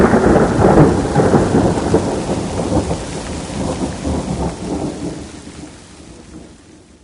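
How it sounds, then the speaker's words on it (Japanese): Thunder rumbles loud and close over steady heavy rain during a nighttime storm, a sustained roar that slowly fades toward the end, with no voices. "外では雷が鳴っています。"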